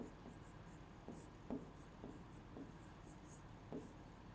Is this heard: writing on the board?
yes